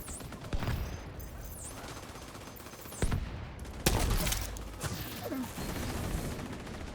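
A striker in a video game unloads a whole magazine, bursts of loud gunfire and fusillade cracks punctuating a busy, noisy battle mix with mechanical clatter, several sharp shots standing out over the din.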